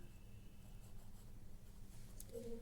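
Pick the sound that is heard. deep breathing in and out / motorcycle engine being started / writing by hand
writing by hand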